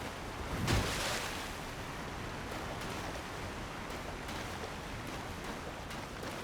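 A waterfall in the game Elden Ring produces a steady, broad rushing hiss, faint and continuous like distant pouring water, with a brief swell near the start and no voices.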